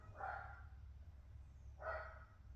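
Dogs bark in two separate bursts, near and fairly loud, over a steady low rumble of background noise, with a gap between the barks.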